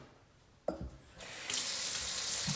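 Kitchen tap water runs steadily into a sink for rinsing, starting with a clunk and swelling to a loud, continuous broadband rush that holds to the end.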